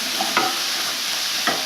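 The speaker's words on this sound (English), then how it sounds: "just the simple act of frying ginger, garlic, onions" Ginger, garlic, onions and Sichuan peppercorns sizzle steadily in hot oil, with a few scraping stirs of the pan cutting through the close, continuous frying hiss.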